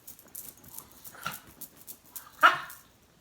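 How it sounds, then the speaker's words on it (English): A small, restless pet dog barks in a few sharp yips, with one loud, close bark standing out near the end amid quieter room sounds. "Chloe, my little dog, is getting a little restless."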